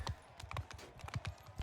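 Horses gallop in the medieval battle game Bannerlord, a quick, even drumming of hoofbeats, close and fairly quiet, over about a second and a half with no voices.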